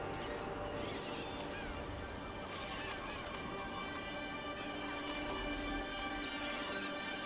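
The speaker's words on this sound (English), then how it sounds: "Stupid birds." A flock of birds honks and squabbles over food in Dragon Age: The Veilguard, a dense continuous clamor of overlapping calls over a steady background.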